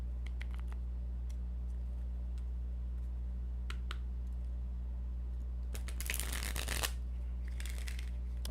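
Tarot cards riffle and shuffle with scattered light clicks and a denser burst of rapid flutter near the end, close and quiet over a steady low hum.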